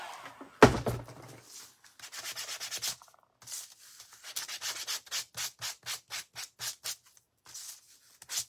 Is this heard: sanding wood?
yes